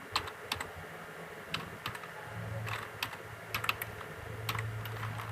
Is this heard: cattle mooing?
no